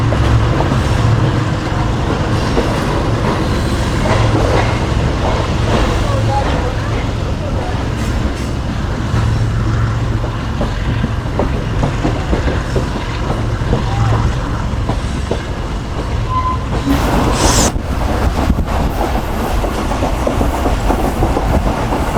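Pak Business Express train running on the main line between Karachi and Lahore, heard as a continuous rumble with rhythmic clickety-clack of wheels over rail joints, a loud steady ride with a brief sharper burst near the end, and faint voices.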